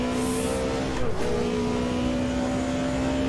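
A BMW DTM race car engine drones at steady high revs in Automobilista 2, a loud sustained tone with a brief dip and shift about a second in before settling back to a constant whine.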